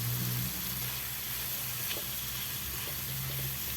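Fish sizzles steadily in a hot pan with tomatoes already wilted in the oil, a constant broadband frying hiss with a low hum briefly underneath, no voices.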